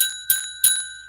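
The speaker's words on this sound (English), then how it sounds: "Okay, so the bell is rung" A small bell is struck several times, each strike a sharp bright ding whose ringing tones trail off before the next hit, close and clear with no talk.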